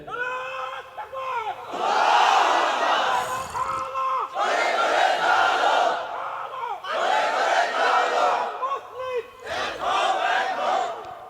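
A large crowd at a Jamaat political gathering chants takbir in loud, roaring call-and-response bursts, four big swells of massed voices separated by brief gaps where a lead voice calls out.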